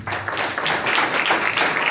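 A church congregation at a Christmas sermon claps together in steady, dense applause, with a broad patter of many hands sustained evenly throughout and no voices rising above it.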